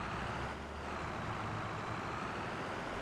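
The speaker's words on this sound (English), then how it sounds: "Let me take this tractor off of the field." A tractor driving in a farming video game on the Fichthal MaizePlus map, its engine giving a steady, loud, unbroken drone.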